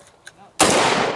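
Rifle fire from a SCAR L at three 10-inch steel plates 10 yards away on a range: quiet lead-in, then a sudden loud burst of rapid shots with ringing reverberation filling the rest.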